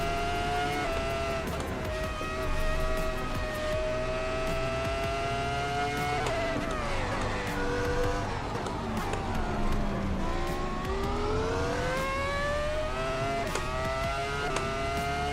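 Michael Schumacher's 2004 Ferrari Formula 1 car in a racing game: a loud, high-revving engine whine rising and falling through gear changes with brief dips and tyre noise, steady and close throughout.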